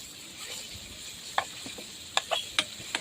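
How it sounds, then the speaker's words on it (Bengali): Onions and green chilies frying with ginger-garlic paste give a soft, low sizzle, broken by a few sharp clicks and scrapes of a spoon stirring the pan. "এই যে আমার পেঁয়াজ কাঁচামরিচ মোটামুটি ভাজা হয়ে আসছে"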